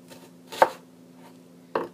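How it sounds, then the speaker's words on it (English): Two sharp knife strikes through an onion on a cutting board, spaced about a second apart, close and clear, over a steady low hum with no talk. "so then I'm just going to cut it into little dices"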